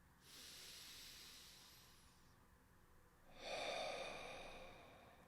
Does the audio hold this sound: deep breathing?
yes